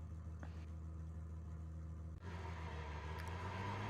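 A Porsche Cup race car engine in iRacing hums steadily at a constant drone, with a brief dip midway before the tone brightens and carries on, no talk over it.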